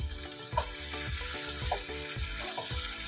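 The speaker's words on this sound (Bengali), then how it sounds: "মাংস কষানো হয়ে গেছে" Chicken meat sizzling and frying in a pan while being sautéed, with steady close crackle and occasional stirring scrapes, no talk.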